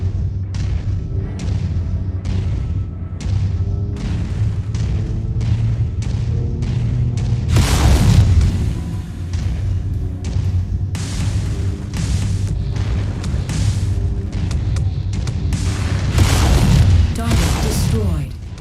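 Repeated booming blasts as a generator is blown up in Command & Conquer Remastered, a real-time strategy game on PC, with heavy thuds spread throughout, loudest bursts near the middle and end, over constant game noise.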